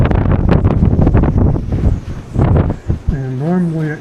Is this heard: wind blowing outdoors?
yes